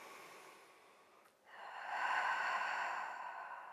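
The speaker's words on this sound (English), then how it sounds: "take a few breaths here" Soft breathing during a postpartum Pilates exercise: a faint breath, a brief pause, then a longer, airy exhale that swells and fades, quiet and close.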